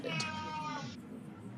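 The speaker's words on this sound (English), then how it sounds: "He is an old cat and a very whiny cat." An old, whiny cat lets out one drawn-out, nasal meow close by, high and wavering, then trails off into quiet room noise.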